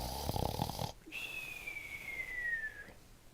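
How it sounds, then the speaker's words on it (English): Cartoonish video game snore with a single long whistling tone that slowly glides downward, heard alone after a brief burst of louder game sound. "Does anybody really snore like that?"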